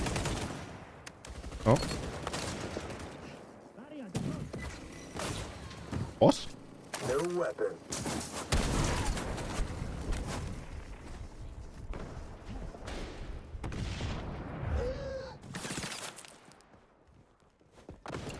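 Gunfire in the online shooter XDefiant: scattered bursts and single shots of varying distance amid footsteps and handling noises, with a player talking over the action.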